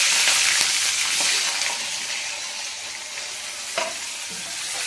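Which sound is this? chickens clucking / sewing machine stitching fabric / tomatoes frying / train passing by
tomatoes frying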